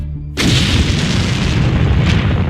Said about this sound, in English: Back-to-back explosions hit the capital Damascus early on Friday.